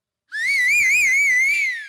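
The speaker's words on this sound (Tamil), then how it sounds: "எல்லாம் ஜோரா ஒரு தடவை விசில் அடிங்க நம்ம ரமேஷுக்கு." A single loud, sustained whistle rings out from the audience for the singer Ramesh on a Tamil singing show stage, steady and wavering slightly in pitch for well over a second with no talk over it.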